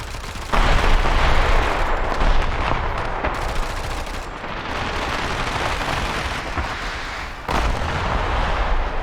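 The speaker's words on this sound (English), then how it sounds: "Well, I actually have a machine gun." Sustained gunfire and explosions from StarCraft 2: Legacy of the Void, a dense, loud, continuous barrage of rapid shots and booming blasts that barely lets up, with no talking over it.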